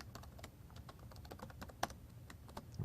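Fingers type on a new laptop keyboard while writing C++ code: quick, irregular key clicks close by with one sharper tap, quiet overall.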